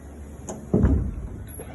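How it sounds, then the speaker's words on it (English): A machine door being closed, a soft thud with a brief rumble about midway, preceded by a light tap, close by in a workshop with no talk. "We need to close the door here"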